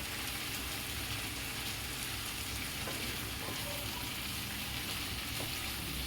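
Stuffed pointed gourd (bharwa parwal) fries on a high flame, giving a steady, dense, close sizzle with no talking.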